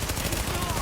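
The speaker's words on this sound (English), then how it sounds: "that just took me 8 bullets to waste that guy" Rapid gunfire from the video game The Division, a dense continuous burst of shots filling the short moment, loud and close with no pauses.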